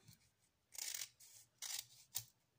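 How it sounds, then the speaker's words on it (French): Scissors trimming excess material on a handmade Christmas craft drum: three close, crisp snipping bursts in a quiet room, with a soft tap at the end. "je vais couper ce qui dépasse"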